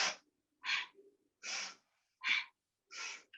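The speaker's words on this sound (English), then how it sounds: "You're going to inhale, exhale." Breathing during a yoga exercise, heard as five close, evenly spaced breaths in and out, each sharp and airy, with brief silences between them.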